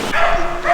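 A greyhound on a moorland walk gives a single short, close bark.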